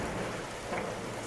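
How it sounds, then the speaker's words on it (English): An animated-story sound effect of a hailstorm with thunder: a dense, steady wash of pelting rain or hail over a low rumble, filling the short moment without any voices. "It was the strangest hailstorm the Egyptians had ever seen."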